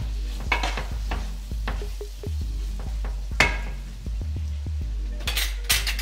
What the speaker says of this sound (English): You want to give that a stir.